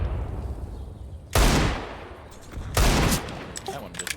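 Two loud bursts of gunfire from Counter-Strike, each a dense crack with a short ringing tail, about a second and a half apart, with faint clicks and game noise between and after them.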